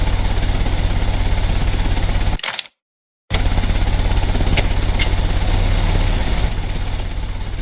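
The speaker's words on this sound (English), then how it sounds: "The engine has started." Steady, loud car engine idling after being started, a constant mechanical hum with brief clicks, cut by a short silent gap partway through, no voices.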